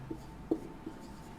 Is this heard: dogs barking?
no